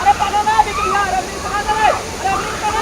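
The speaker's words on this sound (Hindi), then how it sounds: "इस दौरान पानी का तेज सैलाब आया" Roaring torrent of a sudden flash flood pouring over a monsoon waterfall at a picnic spot, loud and steady with crowd commotion and shouting voices mixed into the rushing water.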